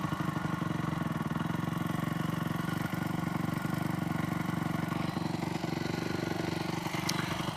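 A Yamaha YZ400F dirt bike engine idling slightly high, a steady, even four-stroke putter with a faint mechanical clatter, close by and constant, no voices.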